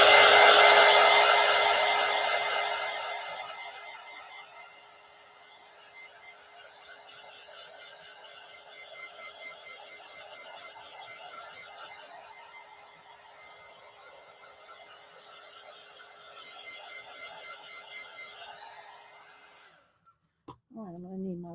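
A hair dryer blows on a collage in progress, loud at the start and then settling into a steady whirring drone with a faint whine for about twenty seconds before shutting off abruptly.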